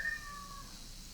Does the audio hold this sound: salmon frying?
no